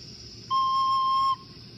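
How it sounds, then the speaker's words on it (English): A single clear, pure recorder note C held steadily for about a second, bright and close, standing alone against quiet background. "A C you play by not covering the first hole on the top of the recorder"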